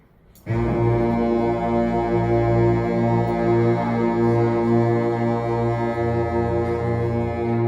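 A school band clinic ensemble with baritone saxophones holds a loud, steady low B flat as one deep, droning unison tone, with no talking over it.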